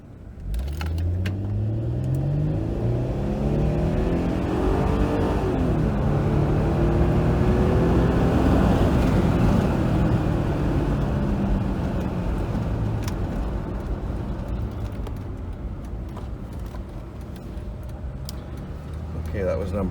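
A car driving on regular fuel treated with octane booster, heard from inside: a loud, steady engine hum and road rumble that rises and shifts through gears, with faint ticks and rattles.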